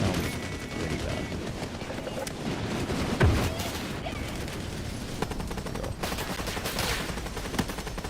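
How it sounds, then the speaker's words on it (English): Machine gun fire in the video game Helldivers, in rapid, sustained bursts over dense battle noise with occasional booms, loud and continuous throughout. "The MG just vaguely sounds pretty bad."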